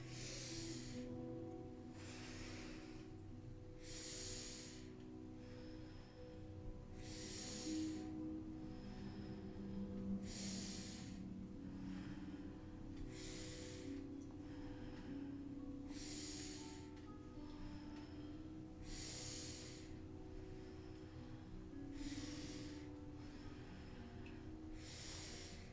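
Slow, deep yoga breaths during seated spinal flexes, with inhales and exhales alternating in a steady rhythm every few seconds as soft, airy rushes over a low, sustained musical drone.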